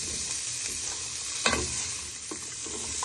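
Onion, carrots and green beans fry in a pan with a steady broadband sizzle, close and even throughout, with a brief louder stir or toss of the vegetables near the middle and small clinks toward the end.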